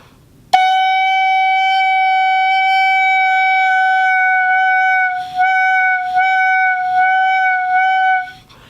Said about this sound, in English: when I play on just the clarinet mouthpiece, barrel, ligature, and reed, this should sound a concert F sharp